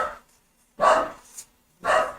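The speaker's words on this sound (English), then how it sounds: "there's my dog, my lovely dog" A pet dog barks three times in a steady, moderately loud series, each bark well separated by short silences, with a small yip between the second and third.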